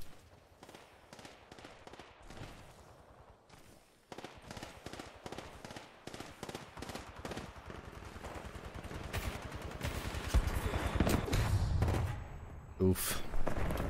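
Rapid gunfire in the shooter Titanfall 2 on the Northstar client: dense bursts of automatic shots, sparse at first and then heavier and louder toward the end, with someone talking over them.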